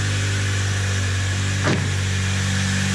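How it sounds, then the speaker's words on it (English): Honda Integra engine running steadily with a low idle hum, wheels spinning on the car being prepared for track use; a brief rising whoosh near the middle, otherwise a constant near drone. "Got some wheels spinning."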